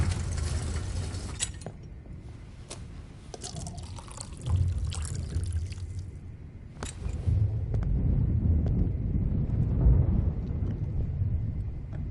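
Water poured into a glass in the video game Life Is Strange: a trickling, splashing pour that swells and fades over several seconds, with occasional low rumbles and clicks in the game's background.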